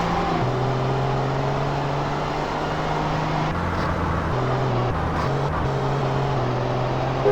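A Ferrari's engine in GTA San Andreas on Xbox One hums steadily throughout, a low sustained drone that shifts pitch a few times, with constant traffic-like noise and no speech.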